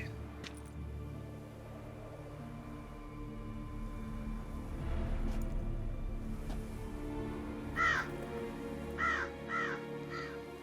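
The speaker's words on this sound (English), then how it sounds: "Ah yes, his birds." Several crows caw in The Witcher 3 video game, a couple of short harsh calls clustered near the end over a low ambient game background.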